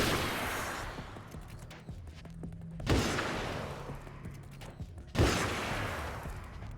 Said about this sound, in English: let's check out this hunting rifle